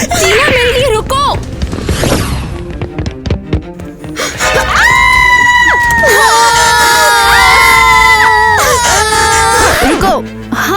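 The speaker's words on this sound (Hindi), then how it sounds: "रुको, हम चिल्ला क्यों रहे हैं? हम चिल्ला रहे हैं क्योंकि तुम चिल्ला रही हो।" Young girls scream in fright, loud and sustained shrieks rising and overlapping for several seconds amid chaotic crowd-like noise, a cartoon sleepover scene with screams broken by brief gaps.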